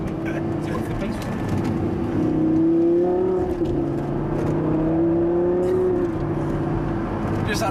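A Lamborghini LP560-4 Spyder supercar's engine drones steadily and loudly while driving, with pitch rising and falling as it accelerates and eases off, close and continuous throughout.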